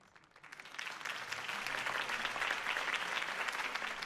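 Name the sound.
crowd applause in Telltale Batman video game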